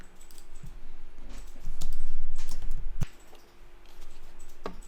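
Keys clatter on a computer keyboard in a short, uneven burst of typing, close and fairly quiet, with no voices over it.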